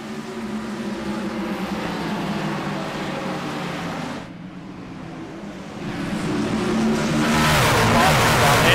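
Race trucks thunder around Bristol just after the green flag, a dense wall of engine roar that dips briefly then swells louder and nearer, with commentators talking over it.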